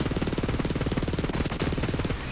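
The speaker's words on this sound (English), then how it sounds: "I'm just shooting endlessly with a Shredder Fire, which is already a pretty powerful assault rifle" Rapid, continuous fully automatic fire from the Shredder Fire assault rifle in Borderlands 3, a steady loud stream of shots that thins out briefly near the end.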